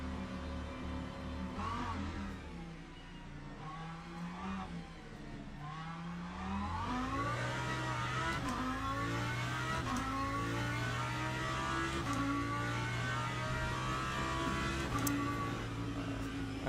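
A BMW race car engine in the Le Mans Ultimate racing game, revving and rising through gears with whining pitch sweeps, steady and close, joined by other cars and no talking.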